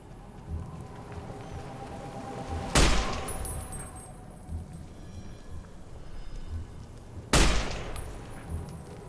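Two sharp, loud gunshots from a scoped high-powered rifle in Fallout: New Vegas, spaced several seconds apart, each with a brief ringing tail over steady ambient game background.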